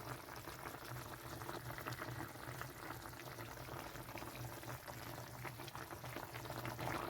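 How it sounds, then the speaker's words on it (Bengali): Tengra fish curry with potato, lentil bori and eggplant boils hard in a pot, giving a dense, continuous bubbling and hissing that stays steady throughout with no talk. "তো ট্যাংরা মাছ শক্ত মাছ দিলে সবসময় আপনারা ভালো করে ফোটাবেন।"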